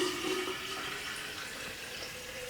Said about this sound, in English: And then I'm going to fill this with my water.